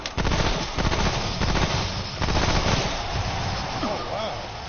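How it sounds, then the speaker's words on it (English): Rapid automatic submachine gun fire from a PS4 video game, loud, dense bursts crackling for several seconds with a brief gap midway, tailing off amid game noise. "So your rifle turned into a machine gun."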